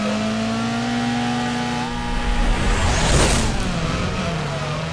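Race car engine from Burnout Revenge holding a steady, loud high-pitched drone, then surging into a brief roaring rev with rushing wind near the middle before settling back, close and continuous.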